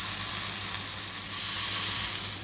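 A steak sears in a hot pan for a peppered steak dish, a loud, steady, close sizzle with no talking over it.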